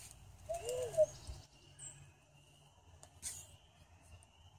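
An owl hoots back at night outdoors, answering an owl call: a single faint, distant low hoot against quiet background hiss, followed by a few soft scattered sounds.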